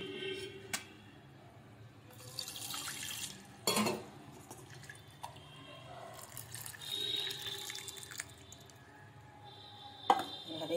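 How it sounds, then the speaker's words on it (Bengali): Boiled sago pearls poured into a sieve so the cooking water drains off, a soft trickle and splash of water with light clinks of utensils, faint and intermittent in a home kitchen. "সাবুটা এবার আমি ছেঁকে নেব।"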